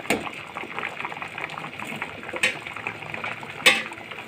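Chana dal boiling in a pot for halwa over a raised flame, a soft bubbling and faint simmering hiss with a few sharp clinks of a spoon or lid against the pot.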